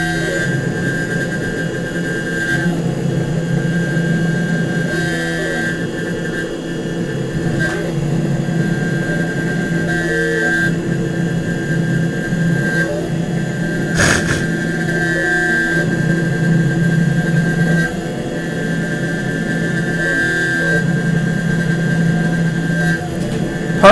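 A CNC machine cuts at nearly double its programmed feed rate, giving a steady, loud mechanical whine with a sustained high tone over a broad rumble. It runs continuously and alone, with no talking.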